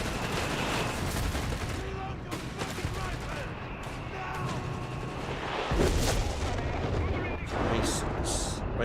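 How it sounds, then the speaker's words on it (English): Video game artillery bombardment: dense, continuous rumbling barrages and overlapping distant blasts fill the whole stretch, loud and sustained with no breaks. "Base artillery hounds are still bombarding away."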